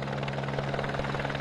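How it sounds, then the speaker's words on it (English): A helicopter delivering ballot boxes drones steadily with a rapid rotor throb and a loud, continuous engine roar, close by and without pause. "ballot boxes delivered by helicopter and every other means of transport"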